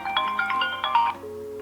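An HK10 Ultra smartwatch plays its incoming-call ringtone, a loud, close electronic melody of bright repeating tones that steps down to a lower sustained note.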